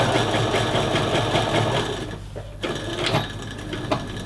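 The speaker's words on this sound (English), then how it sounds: "I don't want to sew through the elastic" Sewing machine stitching down a skirt's elastic casing, a fast steady mechanical whirr running continuously, pausing briefly near the end before short bursts of back-stitching.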